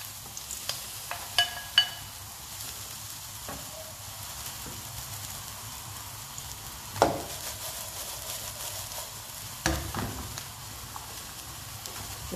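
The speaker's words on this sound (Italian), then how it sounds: "Ora metto subito le melanzane in padella." Eggplant pieces dropped into a hot pan over high flame, frying with a soft continuous sizzle and occasional clacks of a utensil against the pan, fairly quiet and close.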